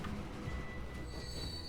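Small trains in the Transport Fever game pulling wagons, their wheels letting out a sustained high squeal over a low rolling rumble, close and fairly quiet, with no talk.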